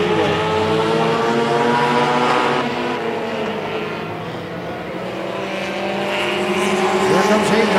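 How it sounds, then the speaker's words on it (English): Race cars in a Hornets feature at Tomah-Sparta Speedway, several engines droning and whining together in a dense, steady roar that dips slightly and swells again, with an announcer talking over it. "Good racing all through the field here on this thing with the Command Post Saloon Hornets here at Tomah-Sparta Speedway."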